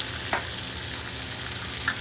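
Green beans seasoned with salt and coarse ground pepper sizzle in a hot pan, a steady close crackle of frying with a couple of faint scrapes as they are stirred, no voices.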